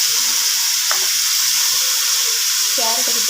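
Chopped carrots fry in a hot pan with a steady, loud hiss and crackle of oil, a brief clink of a spoon or stirring touch audible near the end.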